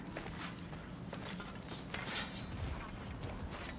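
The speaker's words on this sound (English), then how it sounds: "A door." A door mechanism opens in God of War Ragnarök, a quiet run of ratcheting clicks and creaking gears with a brighter metallic clank midway.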